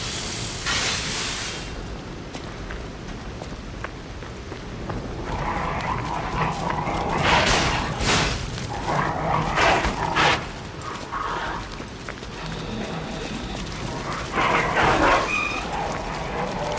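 A dog in the game Lies of P barks and whimpers in short bursts over a steady game soundscape, with a voice talking now and then.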